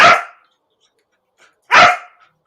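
A dog named Spider gives two sharp, loud barks about a second and a half apart, close to the microphone, with quiet in between and nothing else heard.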